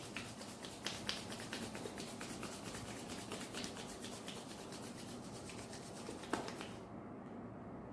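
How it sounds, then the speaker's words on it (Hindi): Palms rubbing briskly together in a quiet room, a steady dry swishing friction that continues for several seconds, with a few sharper brushing accents, ending in a brief pause. "rub your palms"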